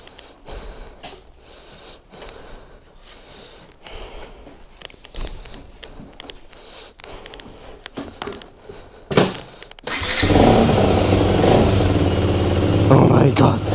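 A KTM RC 125 motorcycle fitted with a Radical Racing exhaust, heard in a garage: after breathy sounds and clicks, the engine fires and settles into a loud, steady close-up idle, with people talking in the clip.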